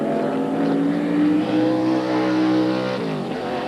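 A NASCAR Winston Cup race car in 1997 pole qualifying at Darlington roars past close to the wall, a loud sustained engine howl that holds steady and then drops in pitch as it goes by.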